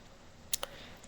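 Two quick, crisp computer mouse clicks in close succession over faint room quiet, small and near.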